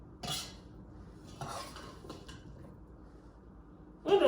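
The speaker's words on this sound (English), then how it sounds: "And as we're stirring here, we're going to mash a bit of them." Blueberries being stirred in a pot for a blueberry pie filling, a spoon scraping and clinking against the pot in a few separate strokes, close by and fairly quiet, with a louder knock at the end.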